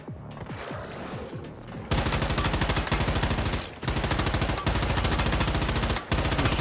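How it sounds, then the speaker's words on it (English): Rapid, loud SMG fire in the game The First Descendant, several close sustained bursts of tightly spaced shots separated by brief pauses. "Just trying to shoot through that little fucking hole, man."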